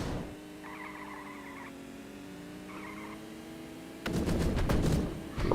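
Gunfire and kart skids in the online game Smash Karts during a tournament match, with a burst of rapid sharp shots near the end over a steady engine drone and synth tones.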